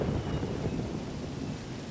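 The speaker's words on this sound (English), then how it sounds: "We got a rainstorm. Now here comes the storm." Steady rain pours down through an outdoor thunderstorm at a muddy wedding venue, with low thunder rumbling continuously beneath the hiss of the downpour, moderately loud and without any voices.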